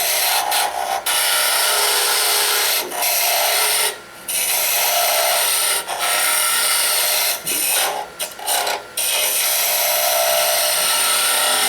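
A woodturning tool cuts a wooden Christmas ornament on a lathe, making a loud steady scraping hiss broken by several brief pauses as the tool lifts off the wood.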